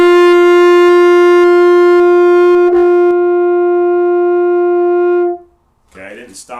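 A horn in F sustains a single long, steady tone for about five seconds with a brief break in the air partway through, then cuts off, followed by faint noise.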